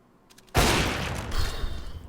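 Gunfire in CS:GO during a FlipSid3 versus NiP match on Nuke, a sudden loud burst that opens into sustained rapid shots and echoing tail, with no talk over it.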